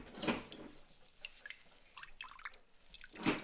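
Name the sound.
buttermilk dripping from squeezed cheesecloth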